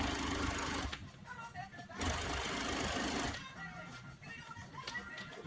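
A 339 double-needle industrial sewing machine stitches a fabric enclosure cover, running in loud steady bursts with brief pauses between passes, close and dominant over faint background noise.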